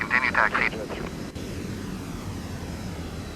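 An airliner taxiing in Microsoft Flight Simulator X, a low, steady engine rumble and whir at moderate level, with a voice speaking briefly over it at the start.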